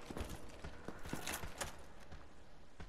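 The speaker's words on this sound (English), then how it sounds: "I keep hearing footsteps." Footsteps in Dark Souls Remastered, a steady run of clopping, hard-surfaced steps under a dense, noisy game ambience, fairly quiet and without speech.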